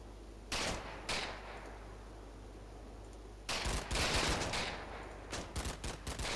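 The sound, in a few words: machine gun fire in video game Combat Mission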